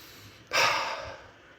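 A single deep breath drawn in and let out slowly, close and clear with no talking, taken as part of a calming focus exercise.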